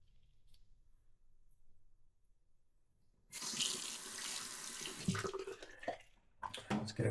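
Water runs from a faucet to wet shaving gear before a shave with a Timeless Tuxedo open comb razor, starting abruptly as a steady, close rushing splash after a quiet stretch and continuing to the end.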